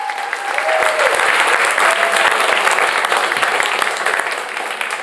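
A live crowd at the WDVX Blue Plate Special claps for a band in a dense, steady burst of applause lasting several seconds, loud and close, with faint voices mixed in.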